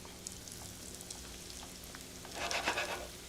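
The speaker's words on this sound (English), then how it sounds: "fry our little cutlet up here." A cutlet fries in hot oil with a soft, steady crackle and sizzle that swells louder near the end, close by and without any talking.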